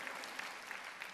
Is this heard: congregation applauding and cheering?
yes